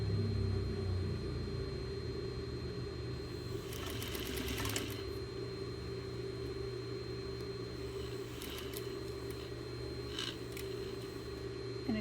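A sewing machine runs continuously, stitching fabric under the presser foot while sewing a ball, a steady mechanical hum and rapid needle rattle with a few brief clicks and rustles of cloth, close and even throughout.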